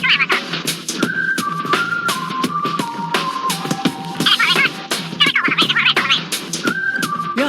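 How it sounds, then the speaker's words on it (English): A rabbit rapping sound effect from the trivia game You Don't Know Jack plays alone: a stepped, whistly melodic line over scratchy, rhythmic percussive beats, steady and fairly loud throughout. "I wonder what it would sound like if an actual rabbit tried to rap."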